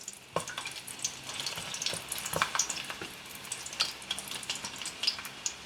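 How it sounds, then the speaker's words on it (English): Ginger and garlic sizzle in hot oil, a close, steady crackle with small pops and bursts of stirring throughout, no voices. "now I'm going to add some ginger and garlic into the oil."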